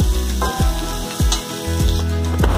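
Food frying in a pan while cooking a fish curry with mango stems, a loud close sizzle that swells with each of several rhythmic stirring strokes, no voices.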